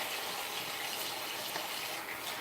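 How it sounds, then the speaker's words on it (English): A hot-water tap runs steadily into a sink during cleanup after handling hot peppers, a constant broadband gush that stays level and close for the whole stretch with no talking. "Always use hot water when cleaning up after hot peppers."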